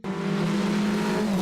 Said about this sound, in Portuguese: o efeito Fórmula 1